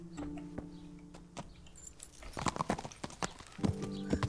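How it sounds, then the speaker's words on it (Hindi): Horse hooves clip-clop in Kingdom Come: Deliverance, a run of sharp irregular knocks that quicken and crowd together, with jangling tack and a faint tonal game hum underneath. "ये घोड़ा यहाँ पे क्या कर रहा है?"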